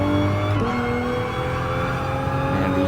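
A Group 4 race car in GT Sport on Sport Soft tyres, tuned past 303 horsepower, holds a loud steady engine drone with a brief dip in pitch partway through, no talking over it.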